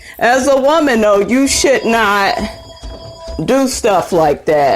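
A telephone rings with a steady electronic tone, a couple of short rings heard under someone speaking loudly.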